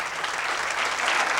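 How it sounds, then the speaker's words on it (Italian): Studio audience clapping for the Ethno Boys, a dense, steady round of applause filling the room throughout. "applauditi in questo studio."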